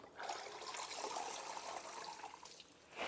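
Tap water runs steadily into a kitchen sink as garden huckleberry leaves are rinsed in a colander basket, a continuous close splashing trickle with no talk.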